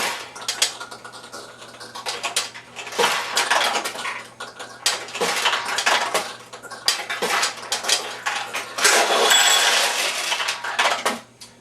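A Nishijin pachinko machine pays out after a ball drops into a tulip pocket, releasing a busy metallic clatter of balls. Dense rattling and clicking comes in bursts over several seconds against a faint steady hum.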